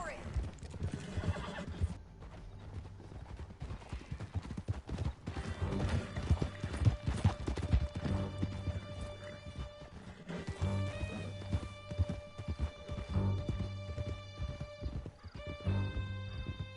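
Horses gallop hard in Red Dead Redemption 2, with steady clip-clop hoofbeats and neighing whinnies over dramatic music and voices, loud and close throughout the ride.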